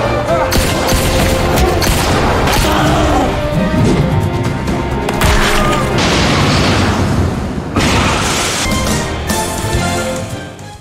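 Gunfire in a shootout, dense loud bursts of shots and crashing impacts rolling on almost continuously, with brief lulls and a voice faintly under the din.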